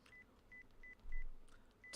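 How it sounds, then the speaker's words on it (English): Phone dialing tones in the visual novel Chaos;Head NoaH: five short, evenly spaced beeps of one repeated pitch, quiet, with a soft low thump near the middle and no voices. "Once again, I tried calling NOZOMI. Maybe this time the ringtone won't play."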